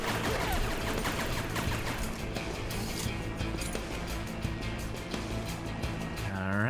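Rapid, dense pistol fire crackles through a Rogue Warrior video game fight, shot after shot in quick bursts with clattering impacts, loud and close.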